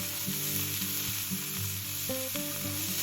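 Ground beef sizzles and fries steadily in a pan for a hamburger casserole, a continuous close hiss with faint scraping and stirring knocks throughout, no voices.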